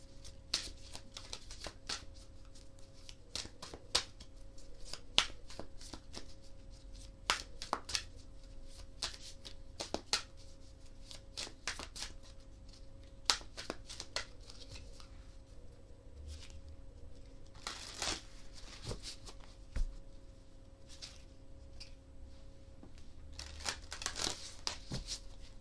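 Oracle cards from an Elemental Oracle deck shuffled by hand for a card reading, a soft steady riffle of papery flicks and crinkles with sharper snaps scattered throughout, close and quiet with no talking.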